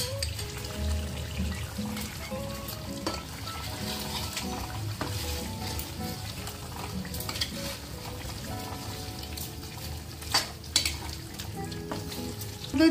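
Whisked sour yogurt going into chicken biryani frying in a pot, with steady sizzling and frying noise, some stirring and a few clinks of utensils throughout, no talking.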